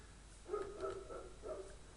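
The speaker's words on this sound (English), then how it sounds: "As you can hear, I've got dogs in the background. I don't know what they are barking at." Several dogs bark off in the distance, a few muffled, soft yips and barks in a loose cluster, faint behind a quiet indoor room.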